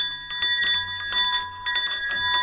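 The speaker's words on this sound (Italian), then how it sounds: "quando arrivi su, suona la campana" A summit bell atop Monte Gramolon rings in several bright metallic strikes in irregular succession, each tone lingering and overlapping the next, close and clear.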